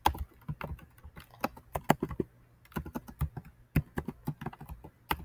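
Quick bursts of keystrokes tap on a computer keyboard in uneven runs separated by short pauses, close and fairly quiet, with no voices.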